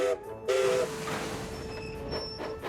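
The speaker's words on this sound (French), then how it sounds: "La petite locomotive verte se fait aussitôt atteler au wagon de Barnabé." Small green cartoon steam locomotive coupling to a wagon: short bright whistle blasts near the start, then a clank and hissing steam with a faint high whistle tone fading in later.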